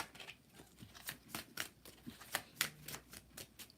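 Tarot cards are shuffled close up in a quiet room, a series of soft, quick riffling snaps and flicks in an uneven rhythm, with no voices.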